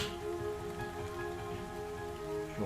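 Rain plays as a background effect during a horror tabletop role-playing session, a steady moderate patter of drops with a low droning undertone, heard alone without talking.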